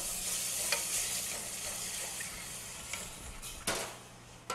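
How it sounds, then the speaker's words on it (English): A half-and-half mix of heavy whipping cream and whole milk being stirred briskly in a hot pan, a soft steady sizzle with scraping clicks of the utensil against the pan, close and fairly quiet. "we are going to add this slowly and stir like a maniac"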